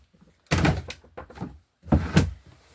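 A drawer in a craft room opening and closing, two heavy wooden thunks with a short slide between them, close and loud with silence around.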